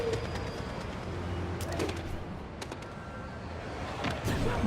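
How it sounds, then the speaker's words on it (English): A pigeon cooing in the Spider-Man PS4 game, soft low coos over a busy city background with faint traffic and scattered clicks. "Howard's pigeon."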